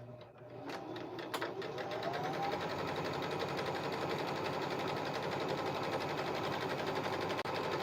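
A sewing machine runs continuously at an even, rapid mechanical rhythm, a steady whirring chatter that holds for several seconds after a couple of brief clicks at the start, close and fairly loud, with no speech.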